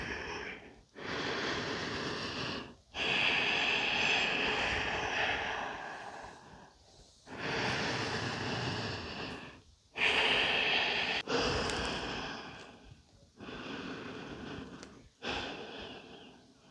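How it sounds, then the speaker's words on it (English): Slow, deep breaths during a yoga child's pose, each long audible inhale and exhale close and soft, separated by short silent pauses, repeating about six times in an unhurried rhythm. "Just take some nice, big, deep breaths"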